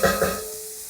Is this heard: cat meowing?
no